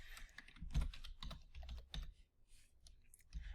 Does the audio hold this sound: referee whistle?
no